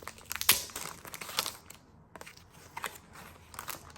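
A plastic sticker pack crinkles and rustles as it is handled up close. The sound comes as irregular crisp bursts, with a sharp crackle near the start, a brief lull, and quieter handling noise after it. No one speaks.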